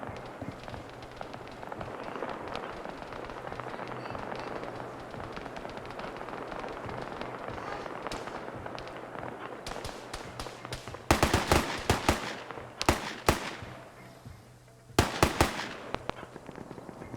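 Video game gunfire during a Friday Night Fights match: a steady background hum gives way to two clusters of sharp, rapid shots, loud and close, with no talk over them.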